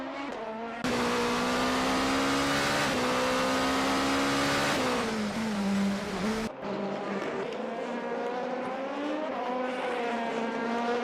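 A race car engine screams at high revs through a lap of the Tokachi 400 at Sarabetsu under overcast skies, its pitch shifting through gear changes, loud and close the whole way.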